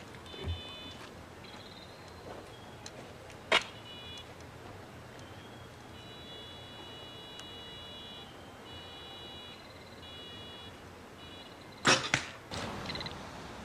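A head-mounted electronic sound device on an archery sight emits faint, intermittent high paired beeping tones over quiet outdoor ambience, broken by a couple of sharp, loud clacks.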